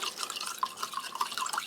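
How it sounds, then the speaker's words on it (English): Cold water pouring into a glass over a coarse, sugary berry drink mix from a Russian army combat ration, a steady trickling stream with bright drip-like splashes, close and moderately quiet. "this time bringing in the cold water"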